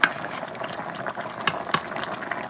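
A simmering pot of turkey neck stew peas bubbles while a little water is poured in, a steady close burble with a couple of sharper splashy pops.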